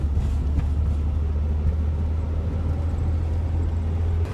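A Ford Transit van drives through New Forest woodland near Fritham, giving a steady low engine and road rumble with no break.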